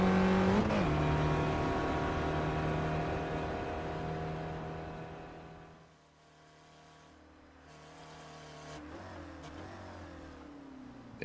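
A Spec Racer Ford race car in iRacing lapping Summit Point, its engine note holding steady, dipping as it lifts off around the middle, then climbing back under throttle, with no one talking.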